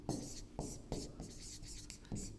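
Writing on a board makes a run of short, scratchy strokes in a quick, uneven rhythm, faint and close, with a soft murmur of voice underneath.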